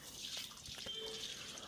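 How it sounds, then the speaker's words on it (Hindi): Water poured into a semi-automatic washing machine during cleaning, a faint, steady splashing trickle with a few soft drips. "अब पानी डालूंगा"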